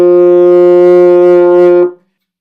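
A single sustained open F note from a euphonium, steady and full for almost two seconds, then cutting off into silence.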